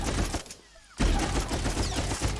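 A Blackout blaster in Star Wars: The Old Republic fires a dense, continuous volley of crackling shots, broken by one short pause before the rapid firing resumes.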